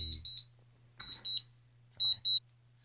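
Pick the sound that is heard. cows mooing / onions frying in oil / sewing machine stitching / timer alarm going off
timer alarm going off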